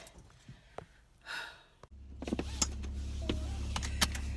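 Someone gets into a car on a chilly day: a soft breath, then a door thump followed by a low steady idle and scattered clicks and rustles of settling into the seat.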